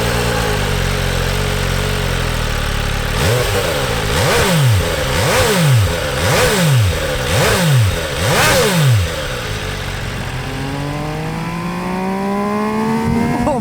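An MV Agusta Brutale 800 RR three-cylinder motorcycle revs hard, a loud steady engine drone rising into a rhythmic series of six sharp rev sweeps, then settling into a climbing tone as it pulls away.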